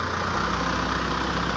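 A tractor engine idles steadily nearby, a loud, even low rumble with a constant throb and no change in pitch throughout, with no voices over it.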